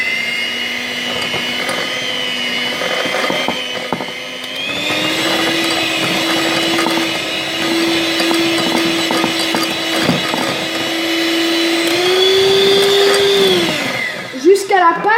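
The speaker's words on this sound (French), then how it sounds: "On va mélanger au batteur." Electric hand mixer beating Nutella brownie batter in a bowl, a steady close motor whine that holds for the whole stretch, rises in pitch near the end, then cuts out.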